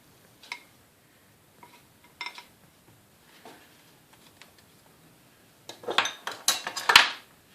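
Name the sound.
cutter cutting bread slice into heart shape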